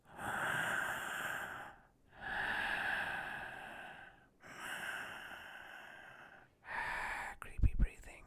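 A voice imitates creepy breathing with three long, drawn-out breaths separated by short pauses, followed by a shorter breath that ends in a few sharp sniffs or snorts.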